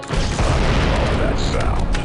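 A grenade blast in the Star Wars Republic Commando video game, a dense booming roar with crackling debris filling the whole moment, with voices mixed in.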